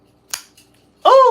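An Orterio 2 folding knife blade snapping open: a sharp click, a tiny second tick, then a loud ringing metallic snap at the end, all close and isolated in silence.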